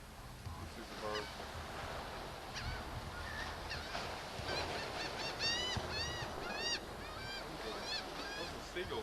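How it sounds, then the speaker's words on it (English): Gulls calling at the seashore, a series of harsh, rising-and-falling squawks repeating from mid-distance over a steady surf and wind background, with faint voices murmuring underneath. "Those are seagulls, aren't they?"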